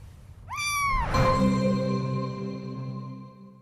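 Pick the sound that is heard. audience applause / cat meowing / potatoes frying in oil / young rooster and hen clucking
cat meowing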